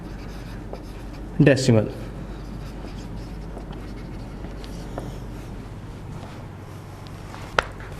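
Chalk or marker scratching quickly across a classroom board for about half a second, a short burst of strokes, followed by quieter room tone and a teacher speaking.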